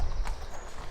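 Horses' hooves clip-clopping as the horses come off the ride, a brief, fairly loud patter of hoofbeats over steady outdoor background noise.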